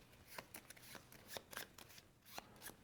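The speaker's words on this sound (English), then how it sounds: "we're going to take that and shuffle it with the top 2 creature cards, like this." Cards from the board game Storyfold: Wildwoods shuffled by hand, a series of quick papery riffles and snaps in irregular bursts, close and fairly quiet with no talking.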